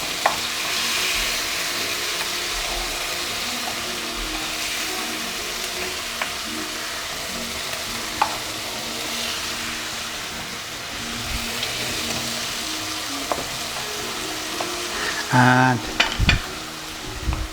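Tomatoes sizzle steadily in a frying pan for a Persian chicken heart and liver dish, with a brief clatter and scrape near the end as they are flipped over.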